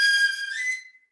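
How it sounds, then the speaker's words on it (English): A tin whistle, also called a penny whistle, sounds one loud, high, clear sustained note for about a second, bright and close, then cuts off, with no voices. "It's called a tin whistle"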